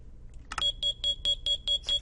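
Smoke alarm going off after a kitchen counter catches fire in a Minecraft furniture mod, a steady run of seven evenly spaced high beeps, clear and moderately quiet.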